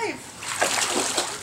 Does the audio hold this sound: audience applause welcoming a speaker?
no